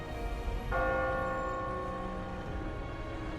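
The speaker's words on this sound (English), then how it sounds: "As the bell chimes the hour" A bell chimes the hour in a town square in the video game Girls' Frontline 2, a sustained ringing tone with long resonant overtones that starts softly, swells and then hangs and decays under a steady background.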